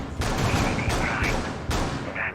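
Gunfire in Rainbow Six Siege, sprayed through a wall during a competitive Xbox league match: a dense, loud, sustained burst of rapid shots that runs nearly continuously with brief breaks between bursts.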